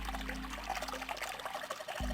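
A knobless faucet in the puzzle game 999 gushing water in a steady, loud stream over a low hum, cut off abruptly near the end by a short thud.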